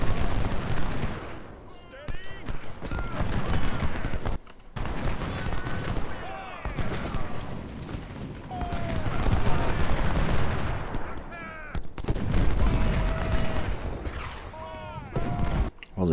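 24-pounder cannon fire erupts in a Civil War battle in Ultimate General: Civil War, with dense, continuous rumbling gunfire and booms layered over game music and a speaking voice throughout.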